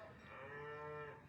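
A single cow lowing, a drawn-out tonal moo that swells and fades over about a second, moderately close with no voices.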